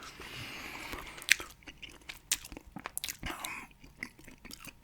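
Close, wet gum chewing with irregular smacks and crunchy bites, loud and intimate with no talking.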